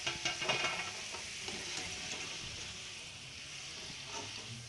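Potato french fries fry in hot oil in a home kitchen, a steady, soft sizzle with light stirring clinks near the start, close and fairly quiet throughout.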